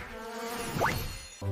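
A buzzing bee, a short insect drone that rises in pitch, alone and fairly close, ending with a brief low thump.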